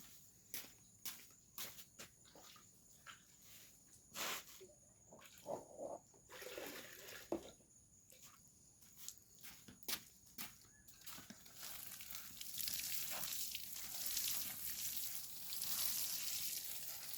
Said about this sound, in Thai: เดี๋ยวเอาน้ำมาหดมันก่อน